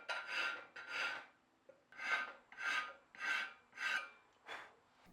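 A hand file rasps across a soft steel knife blank in seven even back-and-forth strokes, each a rough scraping swell with brief pauses between, close and moderately quiet.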